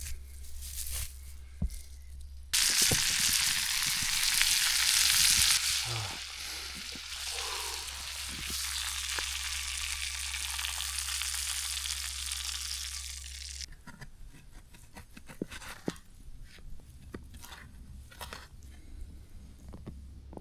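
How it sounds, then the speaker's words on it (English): Potatoes and steak frying in a pan outdoors in winter cold, a loud steady sizzle that swells suddenly and runs for about ten seconds before dropping to softer crackles and clicks, with a constant low hum underneath. "Some fried potatoes and juicy steak."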